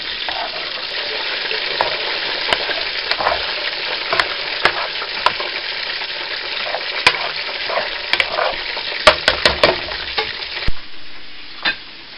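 Creamed spinach with onion and bacon cooks on low heat in a pan, with a continuous soft sizzle broken by frequent clicks and scrapes of a utensil stirring, close and steady.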